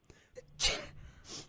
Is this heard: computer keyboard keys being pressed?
no